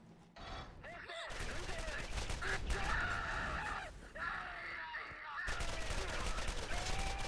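Gunfire in Borderlands, a dense stream of rapid shots with game effects and cries layered over it, loud and nearly continuous with brief gaps.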